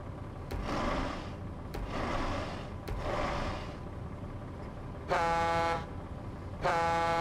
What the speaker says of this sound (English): They have different horns, so at least there's that.